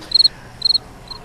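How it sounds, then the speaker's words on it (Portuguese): Crickets chirp in short, high pulsing bursts, three trills repeating at a steady rhythm, clear and fairly close against a quiet night background. "Só ouvindo o barulhinho dos grilos"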